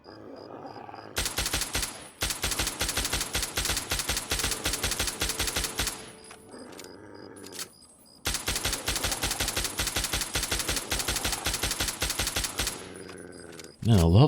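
Bursts of rapid automatic gunfire from the player's weapon in Fallout 3, loud sustained volleys with a brief pause between, then a short quieter stretch and another long burst.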